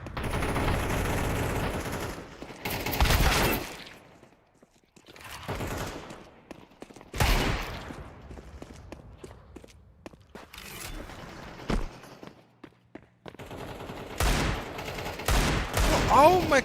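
Counter-Strike 2 gunfire comes in several bursts of rapid shots separated by quieter gaps that hold footsteps and faint mechanical clicks, loud and close in a gameplay mix.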